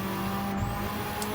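A racing car engine holds steady on the throttle in Gran Turismo 7, a constant loud drone with a faint tyre squeal through the short clip.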